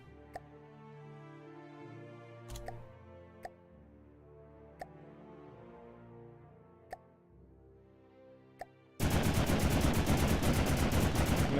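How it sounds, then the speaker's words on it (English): An 89mm gun in the video game From The Depths fires in a few sharp, evenly spaced shots over a sustained hum, then breaks into a loud continuous rapid burst at the end. "It's an 89mm gun now. Or it's firing 89mm."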